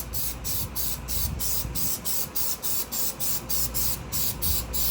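Black spray paint hisses onto Nissan 300ZX car parts in about fourteen short, even bursts, close and loud, with brief pauses between each pass.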